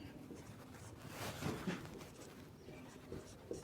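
Chalk or marker scratches across a classroom board while a lesson is written out, short soft strokes and taps at close range, fairly faint.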